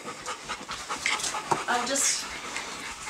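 Dogs pant quickly and steadily close by, with a faint whimper and a person speaking briefly over the breathing.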